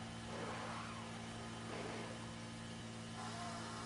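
A racing car in the F1 Manager 24 video game pulls into the pits at Yas Marina, its engine holding a steady mid-pitched drone with a low hum beneath, with a few faint swells in revving and no talk.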